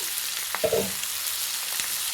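Boiled potatoes added to hot oil in a pan sizzle with a soft steady hiss and a brief thump as the pieces go in, close and without talk.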